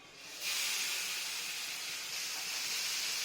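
Marinated fish pieces hit hot oil in a pan and set off a sudden loud, steady sizzling hiss that starts after a brief quiet moment and holds strongly throughout.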